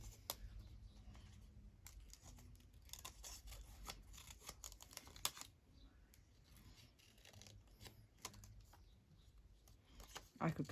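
Scissors snipping paper for a shabby-style journal page, a series of short close crisp cuts scattered irregularly under light handling noise, with a brief voice near the end.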